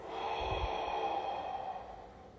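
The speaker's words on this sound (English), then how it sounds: "Two inhales nose. One exhale mouth." Pranayama breathwork: two sniffing inhales through the nose followed by one long, soft exhale through the mouth, close and quiet with no talking.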